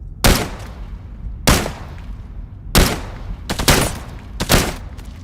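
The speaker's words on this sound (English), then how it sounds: "That was 5 shots. So we got 5 left in the mag." Five gunshots in Into the Radius 2 VR, sharp loud cracks fired singly at irregular intervals, the last few closer together.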